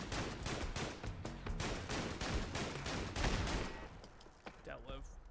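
Rapid bursts of shotgun fire from the video game Fallout London, loud and dense blasts crowding the first four seconds before tapering to scattered shots and debris.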